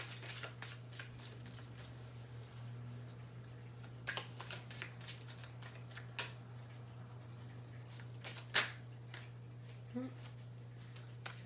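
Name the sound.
shuffling oracle cards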